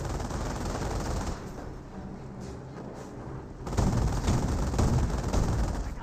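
Sustained rattling machine-gun bursts from suppressive fire in the World War II strategy game Company of Heroes, a dense crackling barrage that eases midway and then returns louder.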